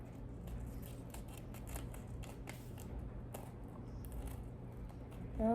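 Scissors snipping excess tape off a handmade paper squishy, a steady series of small crisp cuts close by over a low background hum, with a brief rustle at the end.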